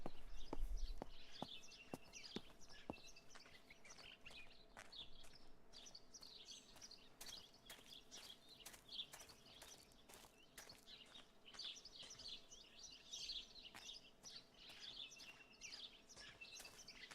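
A bird in the garden of the video game Martha Is Dead chirps and tweets repeatedly, with bright, quick calls continuing throughout over quiet ambience and a few soft clicks near the start.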